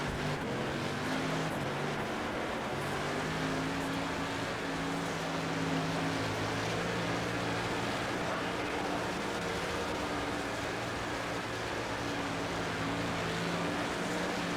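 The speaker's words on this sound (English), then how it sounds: "My wheels are spinning, losing traction." Street stock car engine droning steadily in World of Outlaws: Dirt Racing, with sustained harmonic engine tones and broadband rumble as the wheels spin and slip for grip on a loose dirt oval; continuous and loud throughout, no talk.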